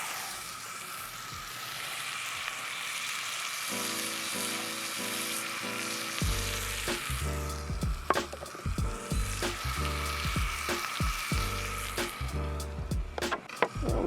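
Steak sears in a hot metal skillet over a campfire, a steady loud sizzle punctuated by crackling pops and occasional scraping clanks as the meat is flipped.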